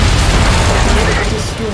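An explosion as a target is destroyed in MechWarrior 5: Mercenaries, a loud, dense, rumbling blast filling the whole moment and fading slightly at the end, with a voice speaking over it.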